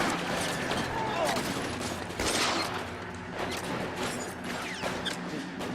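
Gunfire in the video game L.A. Noire, rapid bursts of shots and clattering mechanical cracks over a dense busy mix, with voices talking through it.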